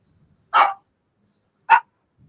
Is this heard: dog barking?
yes